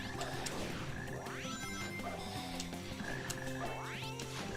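Frogs croak in a level of the GameCube game Sonic Heroes, a steady throbbing chorus layered over game music, with two rising swoops and scattered clattering effects.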